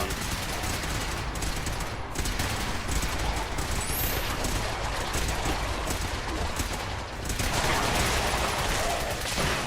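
Dense, sustained gunfire from a Fallout 4 firefight, a loud, continuous rattle of rapid shots layered with other combat noise with only a brief dip near the end.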